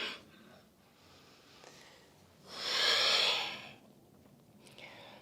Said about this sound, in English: Breathing here.